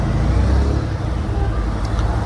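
Road traffic rolls along a mountain road near Nainital, reopened after landslide debris was cleared, in foggy monsoon weather; a steady, fairly loud low rumble of engines and tires continues throughout with no distinct passes.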